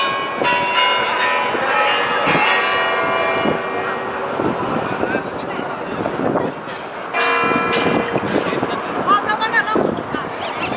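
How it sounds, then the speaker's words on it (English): A large clock in Red Square, Moscow, chimes outdoors at sunset with loud, ringing bell tones that sound, fade, then ring again. A crowd murmurs in the background. "they're all gathering around this clock here, so I believe it might go chime for us very soon"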